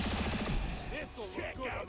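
Rapid bursts of automatic gunfire in a shooter video game, loud and rattling at first, then giving way to a voice talking over fainter background noise.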